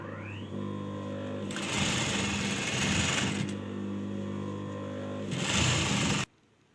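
A sewing machine stitches elastic into a sharara, humming steadily with a low mechanical drone that surges louder in two long bursts of rapid stitching before stopping abruptly.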